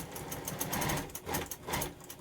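Sewing machine running in short bursts while a quilter takes a couple of stitches and back tacks at a pinned intersection, a steady mechanical whir rising and falling across the clip.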